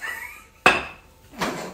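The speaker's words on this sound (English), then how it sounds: "He's rolling the dough out." Pizza dough being rolled out by hand into a rectangular shape, giving two distinct knocking thumps of a rolling pin against the board, separated by a short pause, close and fairly loud with no talk.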